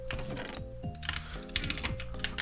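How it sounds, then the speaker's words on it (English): Rapid jitter clicking on a computer mouse while playing Minecraft, a dense fast stream of sharp clicks with some faint background tones. "I like it how satisfying it sounds as well when you Jitter click"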